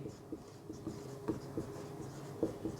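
Chalk or marker strokes on a classroom board during a geography lesson come as a steady run of short taps and scratches, close and fairly quiet, with no voice.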